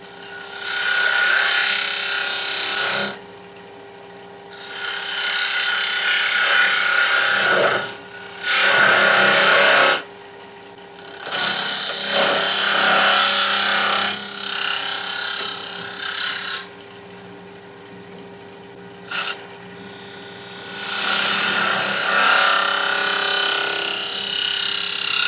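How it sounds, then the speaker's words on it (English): Wood lathe with a gouge shear scraping a spinning wooden egg: sustained raspy scraping in long passes of several seconds, broken by short quiet gaps, close and fairly loud. "What I'm doing here is using a shear scrape on the bottom wing of the flute"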